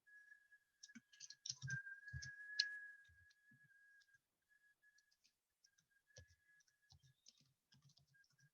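Typing on a computer keyboard in MS Word, quick clusters of light clicks and taps, some loud and some faint, with pauses between bursts, alongside a thin steady whistling tone.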